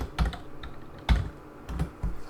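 Fingers type on a computer keyboard nearby, with uneven clusters of sharp key clacks and a few heavier thumps like a spacebar or enter key, separated by short pauses.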